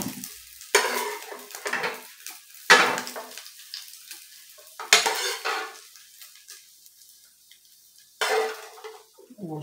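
Bacon frying in a pan at home for breakfast, with a soft sizzle under several clattering bursts of utensil stirring and scraping against the pan.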